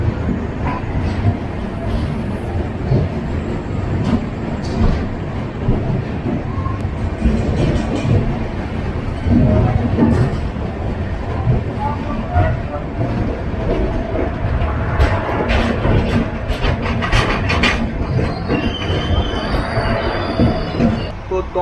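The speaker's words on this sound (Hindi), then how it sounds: "डॉन्ट जंक्शन से जो है अपनी ट्रेन राइट टाइम निकल चुकी है" The Karnataka Express runs on the rails with a loud, continuous rolling rumble, wheels squealing and clattering over the track, heard from inside the train.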